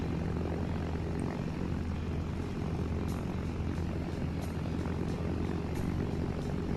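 A plane's engine in the video game Arma 3 drones loudly and steadily throughout, a dense unbroken roar with faint higher whines on top and no one speaking.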